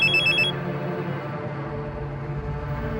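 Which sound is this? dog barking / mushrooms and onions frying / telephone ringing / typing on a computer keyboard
telephone ringing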